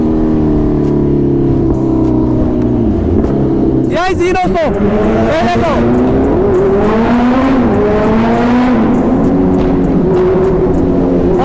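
A loud Kawasaki ZX-10R superbike engine drones and revs continuously at close range, its pitch rising and falling, with a brief spoken exchange heard over it partway through.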